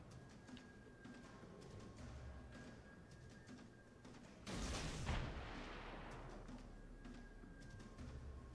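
Warship guns firing in World of Warships Legends, a single loud booming salvo midway through, rising over a steady background rumble of game noise.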